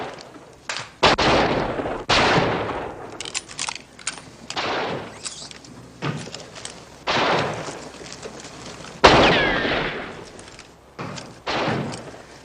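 Loud, sharp bursts of gunfire and cannon blasts from a 1957 western film, arriving in irregular bangs with short gaps between them, each one followed by a brief ringing tail.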